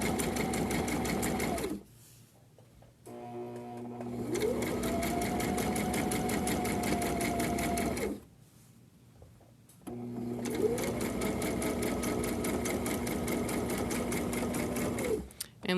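A sewing machine stitches a grocery bag holder in steady, fast mechanical bursts, running several seconds, pausing briefly, then running again, loud and close.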